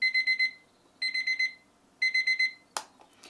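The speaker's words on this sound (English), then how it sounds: "an easy to set alarm," Karlsson Lofty metal-cased alarm clock ringing in three bursts of rapid bright beeps, each about half a second long with a pause between, close and clear, then a short click at the end.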